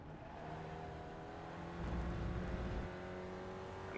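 An SRF race car in the iRacing sim game at Montreal, its engine droning steadily and building in power midway through, loud and continuous with no talk.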